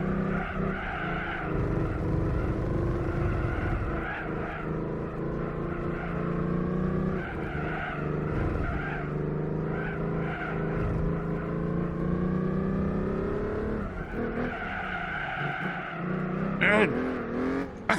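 Race car in the Gran Turismo 4 video game fitted with a stage 3 turbo kit, engine roaring steadily with wavering revs and stretches of tire squeal as the wheels spin, a voice talking over it throughout.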